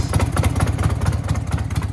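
A clapped-out Harley Davidson Sportster engine idles up close with a loud, loping, uneven rhythmic thump and clacky mechanical ticking from the valvetrain, running steadily with no talking.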